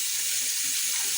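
Steady hiss of water running from a tap, close and continuous with no talk.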